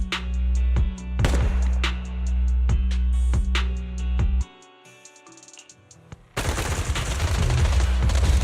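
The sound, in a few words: gunfire in a video game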